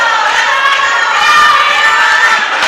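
Spectators at an amateur five-a-side football match, Dream Five versus ASD Solarity, shout loudly in a sustained, dense crowd roar, voices massed together without a break for the whole stretch.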